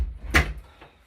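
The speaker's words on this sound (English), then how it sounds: "And I actually should shut this door all the way." A single interior door is pushed shut, giving one sharp, close thump and latch click followed by a faint secondary knock and a quiet room.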